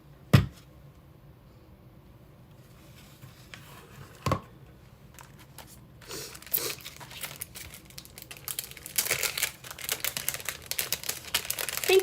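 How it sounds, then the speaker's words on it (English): Die cutting paper with a die cutting machine: a few sharp clicks early, then a rising run of dense crinkling and rustling as the plates and paper feed through, growing louder toward the end. "So now I am going to die cut these guys out."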